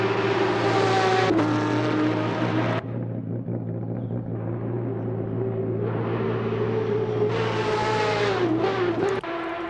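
Race cars pass on the Canadian Grand Prix circuit in the CMRSC Race of Champions, loud engines whining and revving close by, then fading to a distant hum before another car roars past with a pitch drop.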